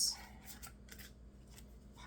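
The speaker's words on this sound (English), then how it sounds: "let me shuffle these cards up real quick" Tarot cards being shuffled give soft, quiet riffling bursts and brushes in short irregular clusters, with faint room noise between.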